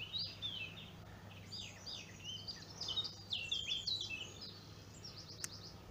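Birds sing in the morning air outdoors, with bright chirps and trills that come and go over a quiet low hum. The calls are fairly faint and unhurried.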